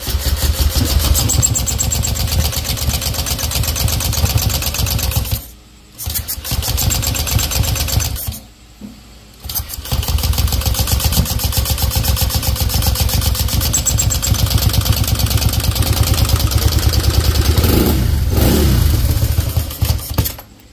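Honda Click 125 v3 scooter, built up to 160cc with 59 big valves, fires up for its first start and revs in a loud, buzzing idle close by, briefly cutting out twice before running steadily again.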